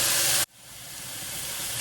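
Lean ground beef sizzling in a pan, a loud, steady hiss that drops sharply after a moment and then slowly builds back up as the meat keeps cooking, with no voices.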